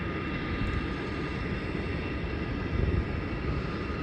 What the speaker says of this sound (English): the flight from the Gold Coast just landed